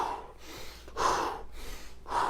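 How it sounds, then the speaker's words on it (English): Deep breaths during a home workout breathing exercise, close to the mic: a series of rhythmic, airy inhales and exhales, about four in two seconds, alone with no talking. "Inhaling as you come to the middle."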